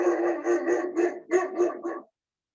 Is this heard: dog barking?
yes